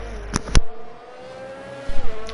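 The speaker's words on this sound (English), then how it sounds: "Watch Dan's car in the Mercedes." A Mercedes race car engine in a racing video game drones at steady high revs with a gear-shift blip at the start and again near the end, loud and close.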